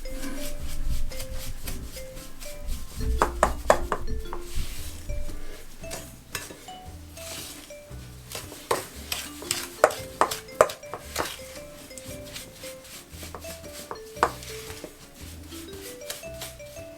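Cookie dough for American bakery cookies is stirred with a spoon in a bowl, making soft rubbing scrapes and frequent light clinks of the spoon against the bowl in an irregular rhythm, close up.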